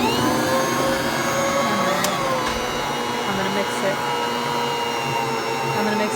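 A stand mixer kneads challah dough with a steady, loud mechanical whir and no letup or change in pitch, heard up close.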